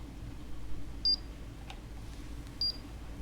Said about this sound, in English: I don't know what that beep was. I wonder if that was one of Phil's devices